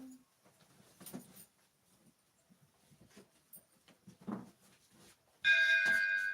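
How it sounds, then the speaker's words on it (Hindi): A bell rings out near the end, a bright, sustained tone that follows quiet, scattered faint noises, loud and alone. "मेरा घंटा बाज रहा"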